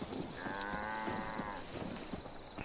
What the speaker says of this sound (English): this cow walks in front of me